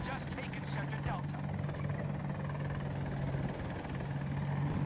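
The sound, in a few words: helicopter flying in Battlefield, a video game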